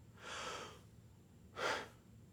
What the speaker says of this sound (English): we're just going from a large breath to neutral